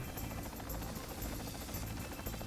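Video-game helicopter in flight, a steady loud rotor drone with constant low rumble and whine, continuous and close throughout.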